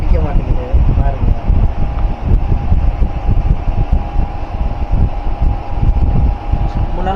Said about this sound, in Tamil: ஒரு பக்கம் ஃபேன் ஓடுது